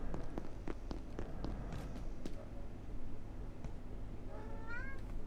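Cat meowing inside the video game Abiotic Factor, a couple of rising and falling meows near the end over a steady low game hum, preceded by scattered soft taps and footsteps.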